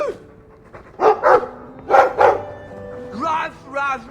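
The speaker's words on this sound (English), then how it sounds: "I like the doggy." Several short, loud dog barks from a video game, coming in two quick pairs, followed by higher whimpering yips near the end.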